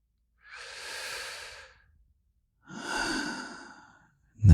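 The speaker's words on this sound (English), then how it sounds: "Take a breath with me" Slow, deep breaths taken during a calm guided exercise: a long soft inhale, a pause, then a fuller exhale, close and quiet, followed by the start of another sound at the very end.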